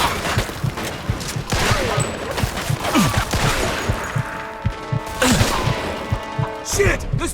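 Gunfire crackles through a shootout in the Mafia video game, with rapid, loud bursts and single sharp shots, some impacts and crashes, mixed with shouting voices.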